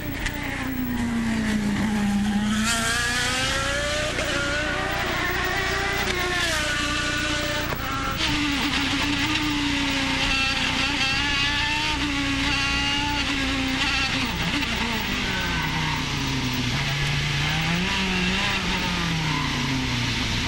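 Will Power's IndyCar racing engine, heard onboard at the 2011 Baltimore street race, screams loud and close with a steady high-pitched whine that rises and falls through gear changes, braking and acceleration.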